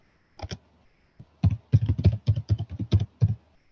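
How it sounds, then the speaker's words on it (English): Password being typed on a computer keyboard: a short burst of about a dozen crisp, close key clicks in quick, slightly uneven rhythm after a brief pause, with no talking. "now I'm typing a password, say 1, 2, 3, 4, 5, 6, 7, 8, 9"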